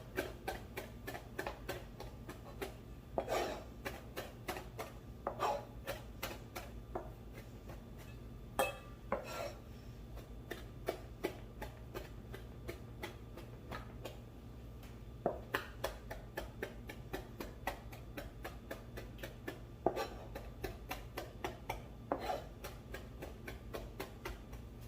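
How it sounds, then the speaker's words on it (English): Steady knife taps on a cutting board while ingredients for Hmong spicy chicken meatballs are finely chopped, a quick even rhythm of faint clicks that continues for a long stretch with no voices. "You are gonna fine chop these."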